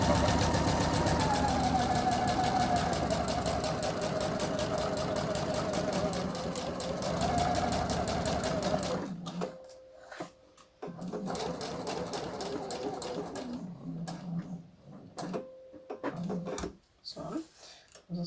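A sewing machine stitches a blouse seam in steady, continuous runs, stopping and starting again partway through with short pauses, while a person speaks over it.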